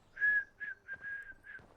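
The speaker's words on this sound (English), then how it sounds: "they whistle like a little tune" Characters in the video game Fallout: London whistle a short, lilting tune, a few clear phrases with brief gaps between them, heard alone at moderate volume.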